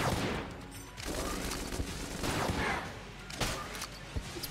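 Video game gunfire in Enter the Gungeon, bursts of rapid shots and impacts with a few sharp cracks, uneven rhythm with brief lulls between volleys.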